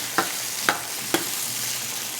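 Chicken sautéing in a pan for a Filipino radish dish, with three sharp scraping stirs against a soft steady sizzle, close and alone without speech.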